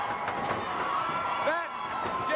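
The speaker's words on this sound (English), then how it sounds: "The crowd starting to pick up the chant" A crowd at a 1986 Central States wrestling match roars and chants in a noisy arena, with loud overlapping cheers and shouts alongside a commentator's voice.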